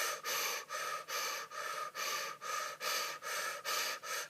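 Forceful, rhythmic breaths through the mouth during a candle-gazing shamanic breathing exercise, about nine strong, even cycles with short gaps, close and loud, no talking.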